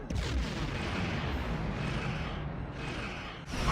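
Starship weapons firing in the space game Star Trek Online, a continuous rumbling barrage of booming shots with a sharp burst at the end, no talk.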